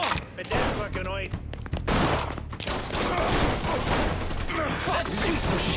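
Sustained gunfire in the video game Mafia III, dense bursts of shots crackling over music and game noise, loud and continuous, with voices speaking under the shooting.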